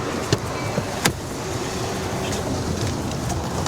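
A Waymo autonomous car unlocks with a few short sharp clicks and a soft thump near the start, then a steady low street rumble carries on.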